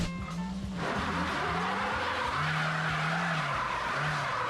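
A car wheel spins for traction on a slippery surface, a steady loud whirring roar with rising and falling engine tone throughout, no talk over it.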